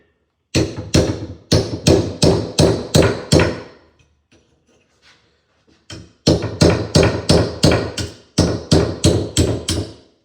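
Sharp metallic hammer blows striking an axe head to lever out its step wedges during a rehafting job, two bursts of about six to eight quick, loud, close strikes each with a pause between.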